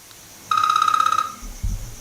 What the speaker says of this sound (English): every time the phone rings when I'm doing a show